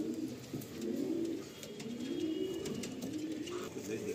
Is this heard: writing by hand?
no